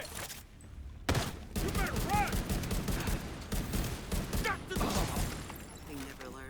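Bursts of rapid video game gunfire crackle through a firefight against hostiles, dense and loud with short pauses, mixed with excited players talking over the shots.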